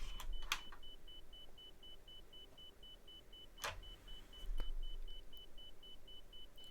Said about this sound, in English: I have no idea why it's beeping.